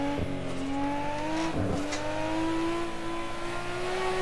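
A tuned Nissan R34 GT-R of around 600 all-wheel-drive horsepower revs in a VR driving sim, its engine note a steady, loud, rising drone with brief dips at shifts, continuous and close, with no talking.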